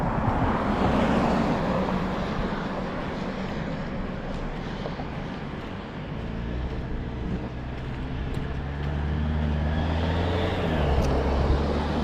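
A vehicle passes on a road beside someone out walking, a loud, continuous rush of tire and road noise with a low engine hum that grows stronger toward the end, heard close by under heavy wind-like noise.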